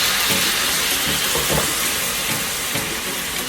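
Tamarind for a tamarind and date chutney hits a hot pan with a loud, close, continuous sizzle and hiss that holds steady throughout.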